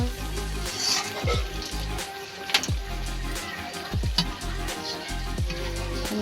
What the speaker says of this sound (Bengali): মা বেগনি ভাজছে